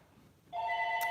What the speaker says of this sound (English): I'm not going to answer that phone